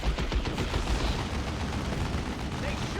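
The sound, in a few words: burner bomb attack in Warhammer 40k: Dawn of War 2 video game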